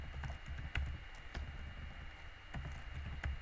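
Quick keystrokes on a computer keyboard while entering a command in a terminal, heard as a faint, irregular run of soft clicks over a low background hum, with no voice.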